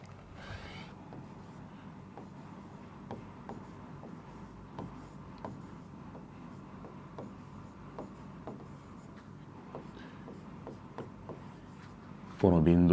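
A definition being written on a board during a physics lesson on gravity, with soft repeated strokes and taps at an even pace, a low voice talking throughout.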